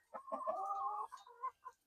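A hen clucks on a small farm during the morning egg check, a drawn-out throaty cluck followed by two short clucks, close and fairly quiet, with no other sound around it.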